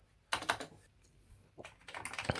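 Keys pressed on a Commodore Amiga A500 keyboard with faulty keys, a few quiet close clicks and clacks in short irregular bursts.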